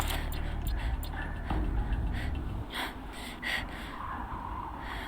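A video game character breathes heavily while climbing a long way up frozen metal in Horizon Zero Dawn, with repeated audible gasps and snorting breaths over a low steady ambient hum.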